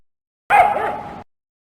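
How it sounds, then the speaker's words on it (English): A single short fox yelp from the 1993 PC game Kids Can Read! Aesop's Fables, a bright barking cry lasting under a second, heard alone. "Fox."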